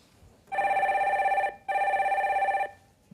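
A telephone bell rings twice in a row, each ring about a second long with a steady electronic trill, separated by a short pause, then silence. The rings are moderately loud and there is no talking.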